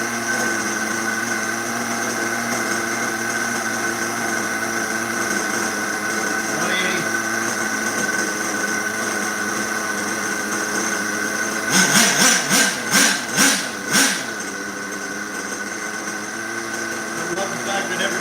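A small RC car engine warms up, holding a steady buzzing idle, then rising in a short run of quick revving blips before settling back to idle.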